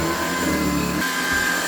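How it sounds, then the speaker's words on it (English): A vacuum cleaner runs in a home, a steady close motor drone with a whining tone that shifts pitch partway through, continuous throughout with no talking. "Steve's hoovering at the moment"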